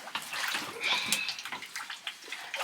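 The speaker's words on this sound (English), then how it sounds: "I'm trying to pump out the water" Water being pumped out of a rock-bottomed dug hole at an off-grid homestead, a steady rushing, splashing flow that continues throughout at close range.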